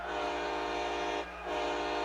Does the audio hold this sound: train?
yes